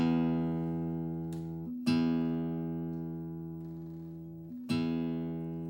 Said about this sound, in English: with this bass string, which is your low E string, and I'm going to play this